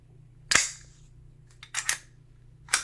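Umarex Glock 17 Gen 4 BB pistol firing with full blowback: one sharp crack, a pause, then two close shots together and a fourth shortly after, each loud and snappy over quiet room hum.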